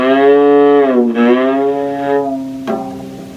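A cello C string is detuned and its peg turned to imitate a cow's moo, producing a loud, close bowed tone that bends downward, swells again, and ends with a short, sharp change.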